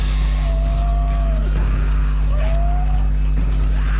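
A motorbike in Days Gone, its engine droning loud and steady with two rising tire squeals as it skids, all close and continuous.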